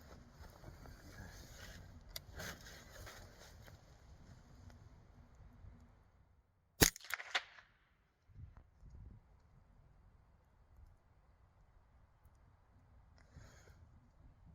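A Ruger 10/22 rifle fires a single sharp, loud shot while being sighted in. Before it there is a faint outdoor hush, and after it a brief quiet with light rustling.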